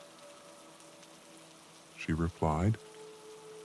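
Rain falling in a cozy winter setting, a soft steady patter that stays low throughout while a voice speaks briefly over it.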